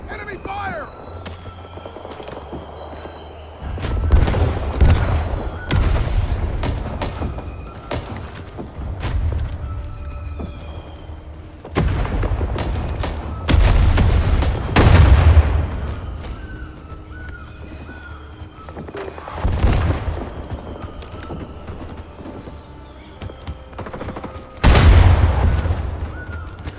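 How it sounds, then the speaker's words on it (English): Rifle fire and explosions in the wartime shooter game Rising Storm, sounding as repeated heavy booming bursts with deep low-end thumps at intervals over a steady battlefield rumble, with shouted voices mixed in. "Enemy fire!"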